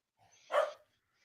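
A single short dog bark, fairly close and clear, standing alone against silence.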